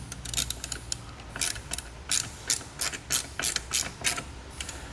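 Ratchet wrench tightening bolts into a Jeep frame while a Bestop Trektop NX Glide soft top is fitted, with steady clicking strokes coming in short close bursts.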